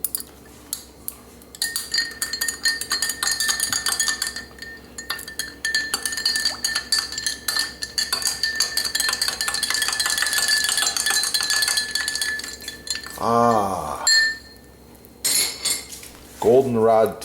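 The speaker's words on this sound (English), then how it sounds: "Okay, adding an ice cube." An ice cube clinks against a glass of goldenrod tea, with bright repeated chinks over a steady background; a voice speaks briefly near the end.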